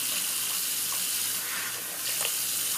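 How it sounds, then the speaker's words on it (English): Running tap water splashing steadily into a sink while shaving lather is rinsed off a face, a continuous close hiss with small irregular splashes and no speech. "I'm going to go ahead and just wash the lather off my face"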